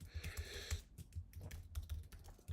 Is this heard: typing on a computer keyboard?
yes